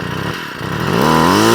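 A small two-stroke strimmer engine idling loudly and close during carburetor tuning, a steady buzzing drone that settles low and then climbs a little in pitch.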